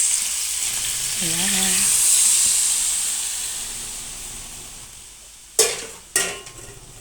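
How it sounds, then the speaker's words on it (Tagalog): Marinated meat frying in a pan for adobo, a steady broad hiss and sizzle that swells and fades, with a voice speaking briefly and a couple of sharp clanks near the end. "Piniprito lang muna namin."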